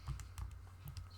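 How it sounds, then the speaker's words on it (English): Keys tapped on a computer keyboard give a few quiet, soft clicks spaced unevenly over a moment, faint against a low steady hum. "so I'm typing the fourth row now"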